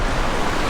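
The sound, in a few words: rushing river water where two rivers meet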